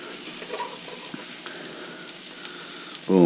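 Morel mushrooms fry in butter in a pan, turned one at a time, giving a steady close sizzle throughout; a voice briefly cuts in at the very end.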